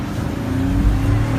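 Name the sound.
Cadillac SRX-4 AWD V6 accelerating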